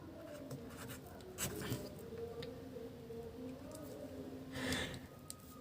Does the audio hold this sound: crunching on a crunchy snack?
no